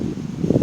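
A breezy wind blows outdoors beside a lake, giving a loud, rumbling microphone buffet that swells toward the end of a short burst, with no clear voices.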